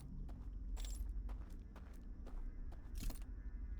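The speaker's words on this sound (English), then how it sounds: "I hear footsteps." In the Outer Wilds game, a steady run of soft, evenly spaced footsteps sounds over a low ambient rumble, faint and somewhat distant, with no talk.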